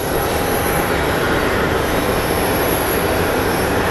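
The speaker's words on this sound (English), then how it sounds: "the first plane that is pushing out is this baby CRJ" A CRJ regional jet pushing back at Phoenix Sky Harbor airport, heard as a steady, loud broadband engine roar with a constant high whine, unbroken throughout.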